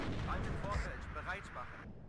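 Tank guns fire at a bridge in the wartime strategy game Warno, dull booming shots and rumbling blasts under steady battle noise while someone talks over it.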